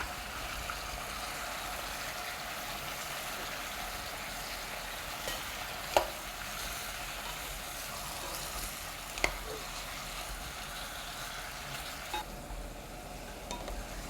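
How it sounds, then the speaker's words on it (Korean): Low continuous sizzle of kimchi stew ingredients, including meat, being stir-fried in a pot with a spatula over medium heat, with a couple of brief scraping clicks of the spatula against the pot. "그리고 볶음 주걱으로 재료를 볶아주세요."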